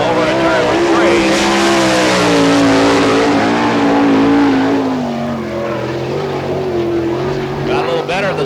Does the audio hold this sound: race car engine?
yes